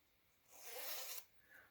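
A clothing zipper is pulled along its track during sewing prep, one smooth rasping run building and releasing over about a second, close up, followed by a faint soft rustle.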